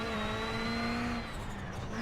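A Ford Fiesta WRC rally car drives on gravel in the sim-racing game iRacing, its engine holding a steady high drone with a brief dip in pitch midway, loud and continuous with no talking.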